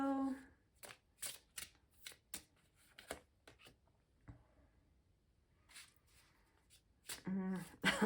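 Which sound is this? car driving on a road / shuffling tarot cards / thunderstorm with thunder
shuffling tarot cards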